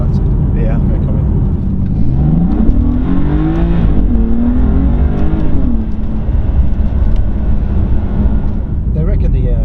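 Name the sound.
BMW M4 car engine noise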